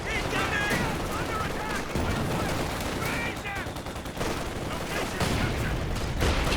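Rapid bursts of Raketenwerfer rocket fire crackle in a Company of Heroes 2 1v1 match, dense and continuous, running under a commentator's voice.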